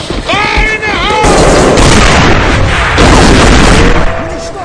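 A grenade blast in the shooter game A.V.A during a competitive match bursts with a heavy, dense boom amid rapid gunfire and game noise, with a voice calling out over the din.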